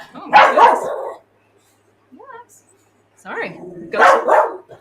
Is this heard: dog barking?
yes